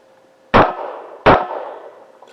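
Two loud, sharp rifle shots about three-quarters of a second apart, each ringing out with a long decaying echo, fired at targets during a night shooting match with no talking.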